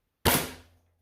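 A single sharp pop from an Alchemist toy blaster, close and abrupt, with a short decaying tail and nothing else around it.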